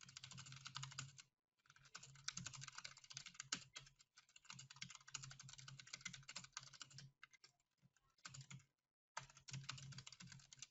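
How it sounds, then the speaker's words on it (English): Steady tapping on a computer keyboard runs in quick irregular runs of keystrokes, close and fairly quiet, broken by a few brief silent gaps. "I need to type in something for the team because I can't see the screen."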